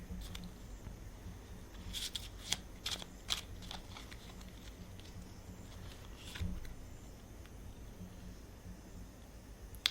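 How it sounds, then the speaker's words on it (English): Tarot cards are dropped and handled by hand, giving a scatter of light, quick slaps and flicks clustered early on, then sparse soft shuffling against a faint room hiss, with no talking. "I'm so excited, I'm just dropping all the cards."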